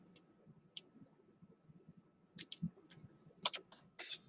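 A few light, sharp mouse clicks in Onshape CAD software, scattered irregularly over a quiet background, soft and close, with a short cluster of clicks near the end.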